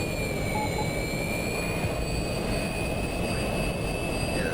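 F-22A Raptor jet engines in a flight simulator during a power loop, a steady loud roar with a broad rumble and sustained high whine tones, continuous and unbroken.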